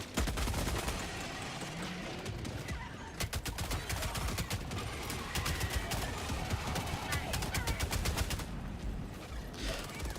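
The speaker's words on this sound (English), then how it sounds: "Gun on the FRV is just a heavy machine gun, right?" Heavy machine gun mounted on the FRV in a survival game, firing dense, rapid bursts of shots that run almost continuously, close and loud over a busy background.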